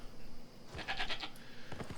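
A Yule Ram mount in Albion Online gives a short, wavering bleat, followed by a second quicker call over a low, steady game background.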